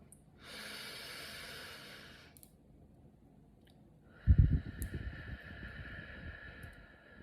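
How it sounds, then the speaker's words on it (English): Deep breaths during a guided meditation: a long, steady hissing inhale, a pause, then a heavy, audible breath out with a rough, snort-like onset, close to the microphone and with no talking. "let's take like 3 deep breaths"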